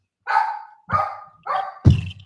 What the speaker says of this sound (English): these dogs